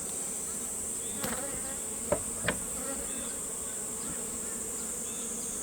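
Honeybees buzz around an open beehive in summer, a steady close droning hum with a few faint ticks and knocks mixed in and no talking.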